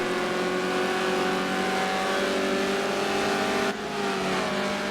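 Fiat X19 race cars in Forza Motorsport 4 howl under steady high revs, a continuous loud engine drone from several cars with a brief dip near the end.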